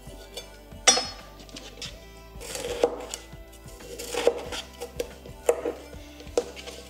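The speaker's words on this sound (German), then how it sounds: "In der Zwischenzeit werde ich hier das Gemüse schneiden. Ich fange mit der Paprika an." A knife chops bell pepper on a cutting board, with a series of close, irregular thuds and light clicks.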